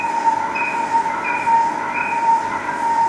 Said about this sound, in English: it does get a little bit noisy at the front there because the tool is a little bit worn